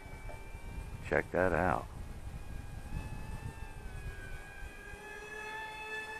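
KFPlane F-35 4-channel RC model jet with a 6-axis gyro flies overhead, its thin whining motor tone gliding steadily in pitch at moderate distance, while a person speaks briefly.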